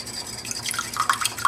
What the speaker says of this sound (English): So you're just pouring it very slowly. Very slowly, and whisk pretty vigorously.